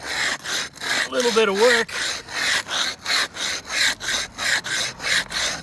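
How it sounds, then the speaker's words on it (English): A rub brick scrapes back and forth across a fresh concrete curb in steady, even strokes, close and gritty, with a person speaking briefly over the rhythm. "We're going to make it real slick and smooth right now using this rub brick"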